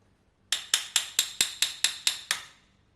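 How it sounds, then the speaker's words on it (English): A rifle barrel is tapped in with a hammer in nine evenly spaced, crisp metallic knocks, close and clear against a quiet background. "Now what I do is I give the barrel a little tap"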